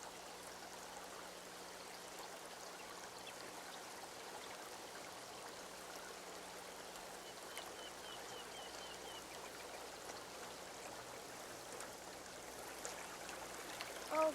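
A babbling brook runs steadily throughout, a continuous close trickle and gurgle of water with no voices, the flow holding even and unbroken from start to finish.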